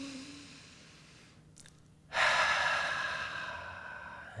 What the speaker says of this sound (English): take a nice deep breath